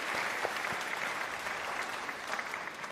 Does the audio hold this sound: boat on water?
no